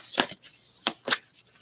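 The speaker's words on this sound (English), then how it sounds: "These cards are hard to shuffle." Tarot cards being shuffled by hand, a few short papery riffling bursts with brief gaps between them, close and fairly quiet with no talking.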